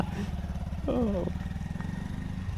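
A motorcycle engine putters close by with a steady, pulsing low idle throughout, and a voice speaks briefly over it.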